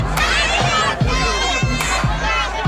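A large crowd yells and cheers in a dense, continuous roar around a celebrity, with rhythmic chanting pulses and occasional sharp shouts standing out.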